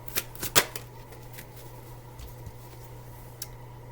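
Tarot cards are shuffled and drawn with a few sharp, close flicks and snaps early on, then lighter scattered rustles and taps over a quiet background.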